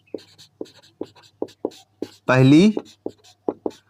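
Marker or chalk strokes on a classroom board during a class 10 maths lesson, a steady run of short, close scratching taps, with someone speaking briefly in the middle.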